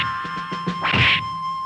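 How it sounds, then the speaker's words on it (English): Punch sound effect: a few light taps leading into a sharp, exaggerated whack with a hissing burst, heard alone against a faint steady tone. "What does a punch sound like?"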